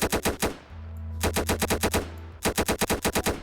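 Rapid automatic gunfire in a Roblox first-person shooter with an M4A1 rifle and M9 pistol, three loud bursts of quick repeated shots separated by brief pauses, with a low hum underneath and no talking.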